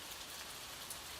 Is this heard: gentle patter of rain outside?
yes